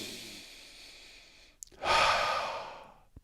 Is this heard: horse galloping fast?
no